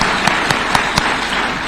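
A crowd applauds the President at a State House event in Kenya, a steady wash of clapping with a few sharper claps standing out, sustained throughout.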